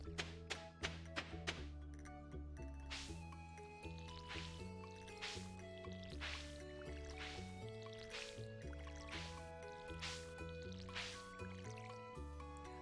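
Watering crops in a farming video game gives soft, repeated dripping and tapping splashes in a quick cluster at first, then evenly spaced, over steady tonal background music.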